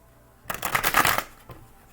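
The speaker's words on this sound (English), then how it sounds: "Nicer, smoother shuffle with my tiny hands?" Tarot cards are riffle-shuffled by hand close up: a quick, dense burst of flapping and rattling lasting under a second, followed by a soft tap.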